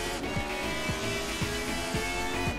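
A 1975 Formula 1 race car in Assetto Corsa accelerates flat out through a chicane at Zolder, its engine whining steadily with quick, repeated upshifts, the pitch climbing and dropping several times under no speech.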